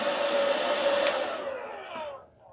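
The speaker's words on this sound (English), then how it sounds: "when you're drying it with a blow dryer" A blow dryer roars close and steady while drying Mod Podge, then winds down and fades in its last second.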